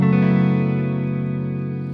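Guitar chord fretted with the thumb on the sixth string at the second fret, a single strummed chord ringing out loud and near, sustaining and slowly decaying for two seconds.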